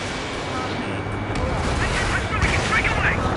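Missile strikes and gunfire in a jet combat video game, a steady roar of broadband blasts and rumble running throughout, with radio-style voices talking over the top.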